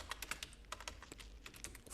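Rapid keystrokes on a computer keyboard while Python code is entered, a steady stream of close, crisp clicks with uneven rhythm and no talking.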